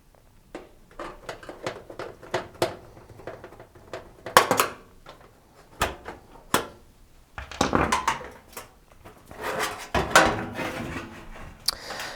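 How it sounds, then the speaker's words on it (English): Top and back metal panels are taken off a domestic oven, heard as a string of scattered clanks, clicks and thuds with quiet gaps between them, close by and with nobody talking. "I need to remove both the top and the back panel to access the cutouts inside"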